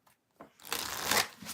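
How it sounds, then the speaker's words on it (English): A deck of tarot cards shuffled close by, a couple of soft taps followed by a dense riffling rustle for about a second, alone without talk. "I'm going to shuffle"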